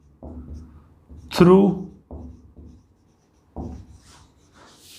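Chalk or marker scratches across a board during a physics lecture in short strokes between bursts of a teacher's speech, close and moderately loud.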